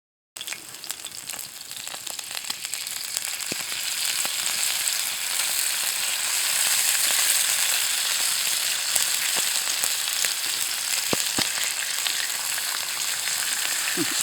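Streaky bacon sizzles and fries steadily over an outdoor campfire, a close, continuous crackling hiss with occasional pops and no talk.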